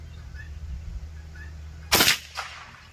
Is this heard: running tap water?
no